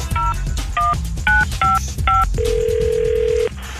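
Telephone keypad tones beep in a quick series of five dialed digits, then a long steady ringback tone plays, all loud and close over a low background hum, with no one talking.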